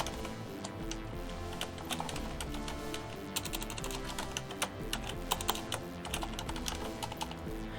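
Fast, continuous typing on a computer keyboard, keys clicking in quick irregular bursts at close range with no voices.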